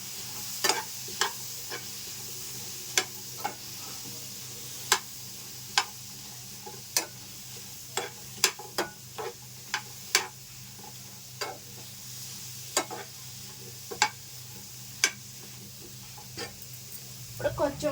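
Ingredients for a tamarind pickle roasting in a pan, a spatula scraping and stirring in a steady stream of sharp clicks and scrapes over a low sizzle, close and moderately loud with no talk.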